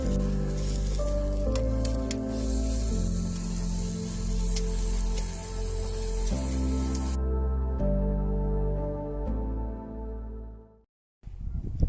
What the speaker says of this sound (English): We got some pork chops going.